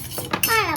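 Chocolate-coated makhana with butter, jaggery and cocoa powder is stirred quickly in a pan at home, giving brief close scraping and clinking of a utensil against the metal.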